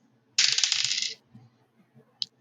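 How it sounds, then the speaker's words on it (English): A green six-sided die is rolled for a tabletop game, giving a loud, close rattling clatter that lasts under a second, followed by a single small tick a moment later. "I'm gonna roll a d6 with a green dice"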